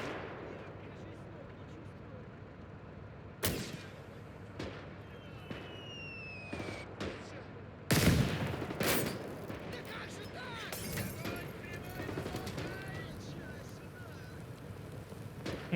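A Molotov-launching weapon fires in the Call to Arms: Gates of Hell battle game, with booming launches and crackling bursts over constant battlefield rumble and distant gunfire.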